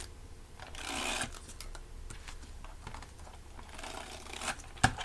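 A worn old tape runner pressing tape strips onto pieces of wrapping paper, giving soft close crackles and rustles with a couple of brighter bursts of paper handling and a sharp snap at the end.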